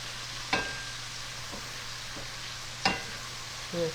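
Scallops sear in a hot pan beside a warm Tuscan white bean and baby spinach dish, giving a steady, moderate sizzle with a few sharp ticks and pops scattered through it and no voices.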